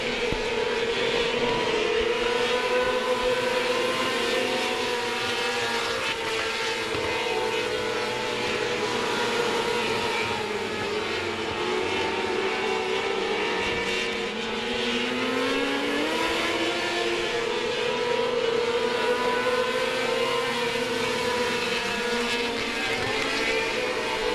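Stock cars racing around 105 Speedway, a continuous loud roar of several engines revving and shifting pitch as the pack circles, with no pauses.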